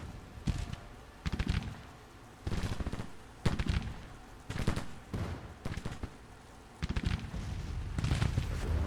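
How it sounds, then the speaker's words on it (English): Repeated bursts of rifle volleys and artillery fire from a Civil War strategy game, spread irregularly across the clip at mid distance, with sharp cracks and rumbling booms and no talk. "they were taking rifle fire while they were out of range"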